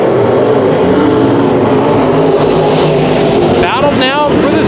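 A-Mod race cars roaring through a heat race at Bakersfield Speedway, a loud, constant, dense engine drone with rising whines near the end as cars pass, with a commentator talking over it.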